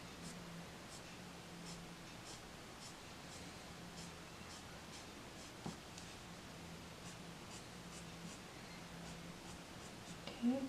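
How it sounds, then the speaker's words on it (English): A pencil flicks quick lines across paper, giving a close, quiet series of short scratchy strokes in a steady rhythm, with faint rustling between them. "So I'm putting my pencil down, dragging a line, and then lifting my pencil at the very end"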